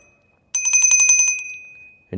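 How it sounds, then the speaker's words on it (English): A small hand bell rung quickly for a prasad offering to Radha Govinda, a dozen or so bright metallic strikes in a steady run that then rings out and fades, close and clear with no voices. "So pick up your bell"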